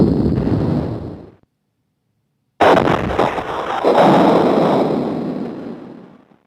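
Artillery shots and explosions in the Amiga game Scorched Tanks. A loud rushing blast cuts off into brief silence, then a second booming explosion bursts in and rumbles before slowly fading.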